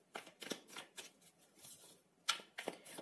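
Tarot cards are shuffled and drawn by hand, giving a series of quick, close, papery riffles and flicks in uneven bursts, with no talking.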